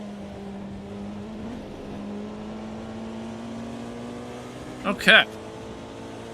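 Race car engines drone steadily during a Le Mans race in the Automobilista 2 video game, a sustained tonal hum with a brief sharp burst of revving near the end, and a voice speaks briefly over it.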